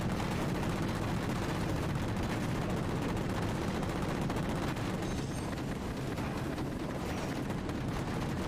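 Sustained video game gunfire from Halo 4, a dense continuous barrage of shots and blasts filling the whole stretch with no pauses, loud and close with no talking over it.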